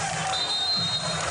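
Volleyball crowd cheering and clapping after an ace serve at a match, a steady wash of noise from a packed arena, held at an even level throughout.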